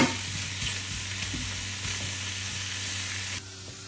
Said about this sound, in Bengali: সসেস গুলাকে আমি জাস্ট এরকম গোল গোল করে কেটে নিচ্ছি, আর এবার হালকা একটু তেলে এটাকে সতে করে দিব।